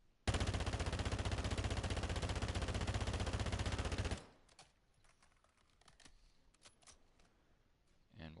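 A fully automatic rifle with no tuning, fired in Call of Duty DMZ: one dense, unbroken burst of rapid shots lasting about four seconds, then quieter clicks and faint handling noises.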